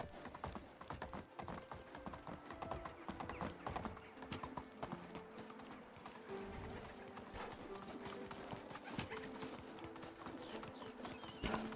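Horse hooves clip-clop steadily in the medieval game Medieval Dynasty, a faint continuous rhythmic trot mixed with rattling, mechanical-sounding game noise.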